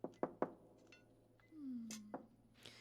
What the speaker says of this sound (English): Knock on the door?